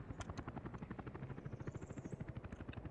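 Helicopters in the city-building game Workers & Resources, with a steady rotor thump pulsing rapidly and continuously, fairly loud and close, with no speech.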